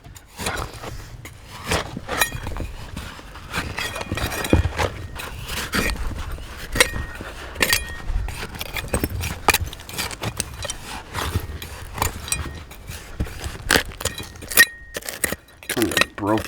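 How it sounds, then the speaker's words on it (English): Glass liquor flasks clink and rattle repeatedly as they are dug out of hard-packed clay, sharp irregular chinks mixed with scraping in a steady stream. "Broken liquor flasks in here."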